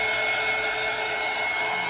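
A hair dryer blows steadily to dry paint on a fall pumpkin craft sign made from a Dollar Tree cutting board, a constant loud whooshing hum with no pauses.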